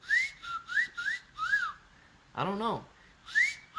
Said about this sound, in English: You have a nice whistle, Clay, bro.